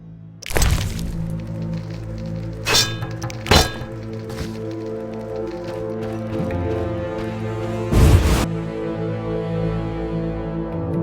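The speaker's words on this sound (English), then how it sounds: "Stop thumping your feet." Heavy thumps of feet stomping in The Witcher, a handful of loud, separate thuds spaced over a sustained droning musical background.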